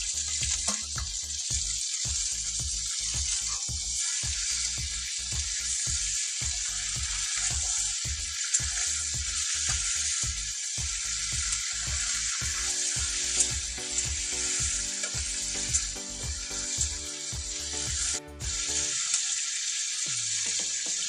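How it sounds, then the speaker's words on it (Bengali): Chicken meat frying with fried onions in a pan makes a loud, continuous close sizzle, broken by rapid rhythmic scraping and stirring strokes throughout, ending abruptly. "এবার মাংসগুলো দিলাম। এবার মাংসটা একটু কষাবো"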